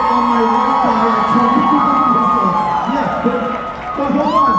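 A studio audience cheers and whoops at a live Impractical Jokers comedy show, a dense, steady wall of crowd noise with scattered shouts and whistles and no pause.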